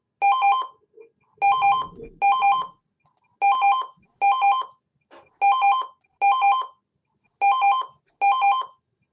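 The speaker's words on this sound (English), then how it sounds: "there's a phone ringing here" Telephone ringing indoors, a loud electronic ring repeating in paired bursts with short gaps, and a brief voice murmur in one of the pauses.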